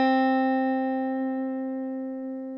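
A single sustained guitar note picked on the B string at the first fret (a C), ringing clear and alone and slowly fading over a few seconds.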